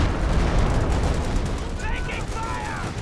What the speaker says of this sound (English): Blob avoids that Stuka barrage.